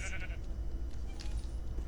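A sheep bleats in the Lego Island video game, one short, nasal bleat at the start over a dense, rumbling game backdrop that carries on without speech.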